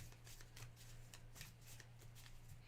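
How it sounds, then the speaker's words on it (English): A deck of playing cards is shuffled during a winter holiday card game, giving a steady papery riffling and flutter throughout under a low background hum. "I'm going to shuffle these real quick."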